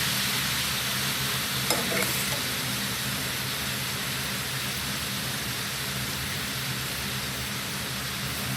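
Mustard greens fry in a pan with a constant, close, rain-like sizzle, a couple of brief utensil clicks early on, and no talking.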